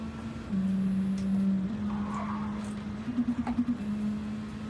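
A car engine in the Gran Turismo racing game steps down through gears, its steady hum jumping in pitch a few times and stuttering into a quick pulsing burst before settling, with faint tire creaks over the drone.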